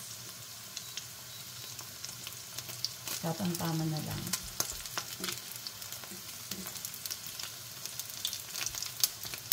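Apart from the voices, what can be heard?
frying dilis (anchovy) omelette in a pan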